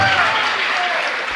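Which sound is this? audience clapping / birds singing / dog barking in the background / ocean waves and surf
audience clapping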